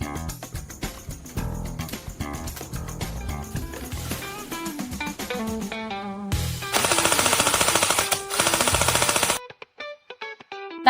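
LCT M60E4 airsoft AEG machine gun in aluminium version firing, rapid mechanical bursts of full-auto shots, loud and close, with sustained rattling strings and brief pauses between bursts.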